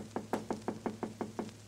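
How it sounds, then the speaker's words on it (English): Knocking on a wooden door for a radio comedy scene set in a house, nine soft, evenly spaced raps over a low steady hum, fairly quiet and unhurried. "Herbert, give us a knock on the door."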